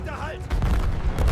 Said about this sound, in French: Un canon français touche 2 chariots de munitions ennemies.